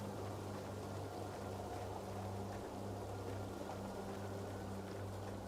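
Continuous rushing roar of a waterfall in the video game Tainted Grail: a broad, even wash of falling water, steady and moderately loud, with no voices.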